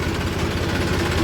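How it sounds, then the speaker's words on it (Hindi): A double-clutch tractor engine running steadily nearby, a loud low, even rumble with constant vibration throughout the short stretch. "यो डबल क्लिच है तो डबल क्लिच का ट्रैक्टर कर दे ऐसी आवाज"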